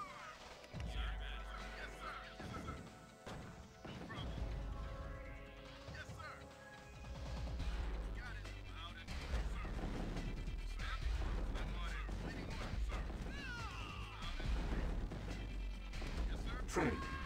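Battle gunfire and explosions rattle through a small infantry skirmish outside a base in Tiberian Sun, dense and continuous over a busy mix of game effects and announcer voice lines.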